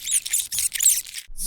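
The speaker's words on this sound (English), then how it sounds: "Rats scurrying about." Rats squeak and scurry in quick, chattering bursts of shrill, high-pitched chirps, close and moderately loud with a brief gap near the end, like a scary-movie effect.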